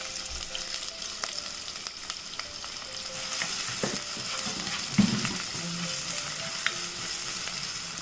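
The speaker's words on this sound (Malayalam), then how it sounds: "ഈ ചെറുതായിട്ട് അരിഞ്ഞ് വെച്ചിരിക്കുന്ന ചെറിയ ഉള്ളിയും ഇഞ്ചിയും കൂടി ഇട്ട് ഇതുപോലെ ഒന്ന് വഴറ്റി കൊടുക്കും" Shallots and ginger fry in coconut oil in a fish pan with a steady sizzle and occasional light scraping of a spatula, constant and fairly quiet throughout.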